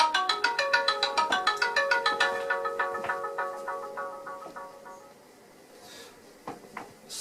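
A phone rings from an incoming spam call, a bright repeating electronic tone pattern sounding at a steady rhythm for a couple of seconds and then fading, with light knocks and shuffling after.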